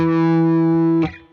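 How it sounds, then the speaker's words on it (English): A sustained distorted electric guitar note on the 5th fret A string rings steadily with a faint upward waver from a slight bend, then is cut off and decays just after one second. "what I'm gonna do is just slightly bend 5th fret A string."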